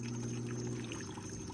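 Water splashes and pours steadily as a fishing net is lowered into a stream, a continuous close watery rush with a low hum underneath.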